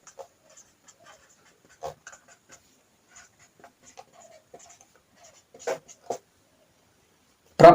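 Chalk or marker scratching on a board while equations with two variables are worked out, producing sparse short strokes and taps at moderate distance, with a louder cluster of marks near the end and no talking.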